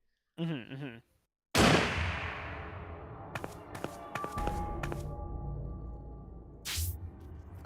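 Gunshot in the video game Zero Time Dilemma: a loud, sudden blast with a long decaying tail, followed by several sharp clicks and cracks, and a brief voice beforehand.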